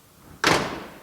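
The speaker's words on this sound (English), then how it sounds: "These doors didn't used to close very well, but I oiled them a bit." The oiled door of a GMC Motorhome Eleganza swings shut with one sharp, loud slam that leaves a brief rattling decay, close by.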